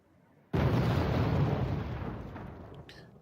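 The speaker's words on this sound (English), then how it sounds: "Now shelling this infantry here, he moves it." Artillery fire shelling infantry in the strategy game Wargame: after a short quiet moment, a sudden loud explosion erupts into a long rumbling roar that slowly fades, heard on its own.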